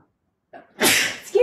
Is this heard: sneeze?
yes